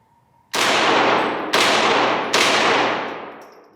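Three sharp shots from a POF Rebel .22LR pistol fired at a target, spaced about a second apart, each loud crack followed by a long ringing decay.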